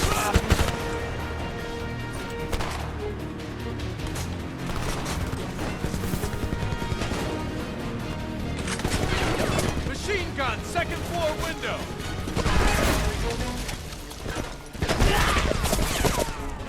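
Bursts of full-auto rifle fire in the Homefront shooter game, rapid repeated shots mixed with crashes and game effects, loud and close, with someone talking at times.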